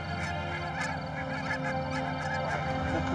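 Geese honk and call steadily nearby in flight alongside a person flying with them over the Cantal countryside, a continuous chorus of overlapping calls with no talking.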